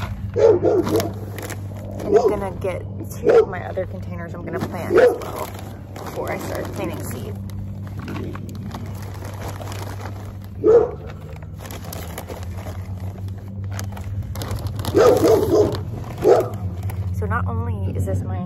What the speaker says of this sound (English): sorry about the dog in the background, it's my neighbor's dog.